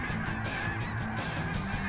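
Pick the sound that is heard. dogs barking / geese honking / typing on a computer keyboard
geese honking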